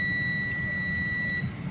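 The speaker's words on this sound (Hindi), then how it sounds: "जैसे ही देखिए मैंने इसको प्रेस किया तो मीटर पे आपको बजर भी आ रही होगी" A multimeter buzzer sounds while a push button is held, a steady high electronic tone that holds for about a second and a half and then cuts off over a low background hum.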